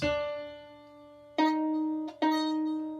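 Three plucks of a violin's D string ring out close and clear, each note sustaining and fading before the next, with a quicker pair at the end.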